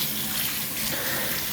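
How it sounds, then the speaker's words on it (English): Hot running water gushes steadily from a tap as it rinses a cast iron pan, a loud, continuous broadband splash without any talking. "So I give it a good rinse off."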